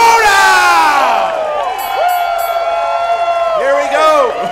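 Loud live crowd at a Movie Trivia Schmoedown event cheering and whooping, high excited shouts and screams rising and falling steadily over a few seconds, with voices calling out in the mix.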